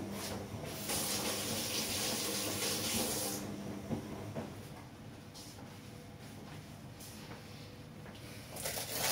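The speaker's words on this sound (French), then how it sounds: "Ah, je nettoie vite les mains." Tap water runs in a steady, close hiss while someone rinses their hands in a kitchen during blueberry cake baking, with a few brief splashes and the flow easing off partway through.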